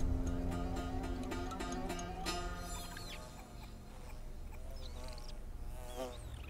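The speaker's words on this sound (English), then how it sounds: "He's distracted by the bee." A bee buzzes steadily in the video game Towers of Aghasba, a continuous insect drone layered over tonal game music and ambience, with no talking.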